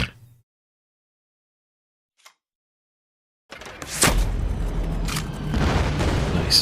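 A bomber attack in the World War II card game Kards hits after a few seconds of near silence: a loud, deep boom lands, and rumbling debris and crackle continue underneath.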